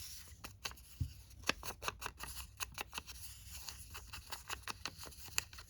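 Scissors snip through a paper book page, a quick run of crisp, close cuts in an irregular rhythm, each blade closure sharp and distinct against a quiet room.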